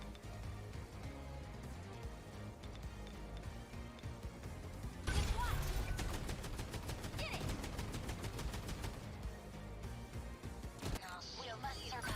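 In 13 Sentinels, a barrage of rockets fires as rapid, evenly spaced bursts like machine-gun fire, starting abruptly midway over a busy game soundtrack, followed by scattered explosions toward the end.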